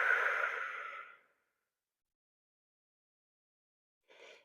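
Breathing while held in a yoga forward fold: one long, audible sigh-like exhale that fades out, a few seconds of silence, then a short, soft breath.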